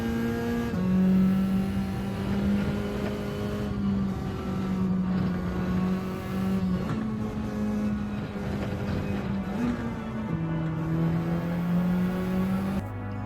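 A GR4 race car accelerating at full speed around Deep Forest in Gran Turismo 7, its engine whining loud and continuous, pitch rising and dropping briefly with gear changes.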